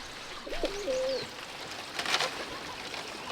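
A pigeon coos softly a couple of times against quiet background noise, with a brief rustling burst afterward.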